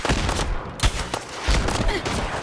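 Reaper of Pantheon, a modded missile-firing weapon in Fallout 4, lets off several loud, close blasts in quick succession over a dense, rumbling background of explosions.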